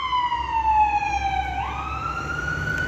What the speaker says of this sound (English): That's an ambulance, right?